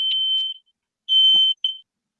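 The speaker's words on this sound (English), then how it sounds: "Either a timer or his smoke alarm." A high-pitched electronic beeping from a kitchen timer or smoke alarm, a couple of short piercing tones, then a pause and a longer tone followed by a brief one, heard over a remote call.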